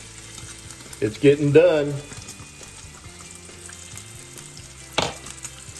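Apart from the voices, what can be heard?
bacon frying and sizzling in a pan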